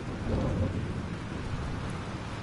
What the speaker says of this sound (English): This storm is real.